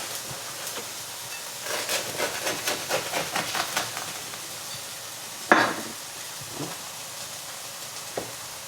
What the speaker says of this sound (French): On laisse revenir les aubergines